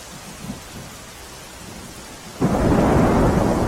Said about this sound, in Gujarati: ગિરનાર પર્વત પર ધોધમાર વરસાદ વરસી રહ્યો છે।